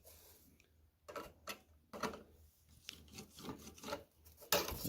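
A screwdriver scrapes the burr off a plate from a 727 Torqueflite transmission, giving short, close rasping strokes in uneven bursts with brief pauses between them and a stronger scrape at the end.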